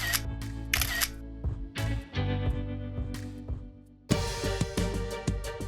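Camera shutter clicks fire in quick succession for a selfie, sharp repeated snaps over a loud busy background of music and crowd noise.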